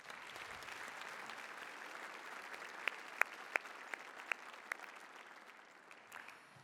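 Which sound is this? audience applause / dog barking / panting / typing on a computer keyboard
audience applause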